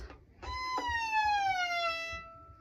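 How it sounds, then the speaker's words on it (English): A violin note bowed on the E string bends downward in a smooth gliding finger slide, a bright, sustained sliding tone heard close and alone, with a faint bow scratch at the start. "we're going to do a special circle slide with our finger"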